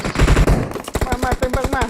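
Automatic gunfire in the mobile game PUBG Mobile, loud and close, with a fast run of sharp shots that becomes a steady rhythmic burst in the second half.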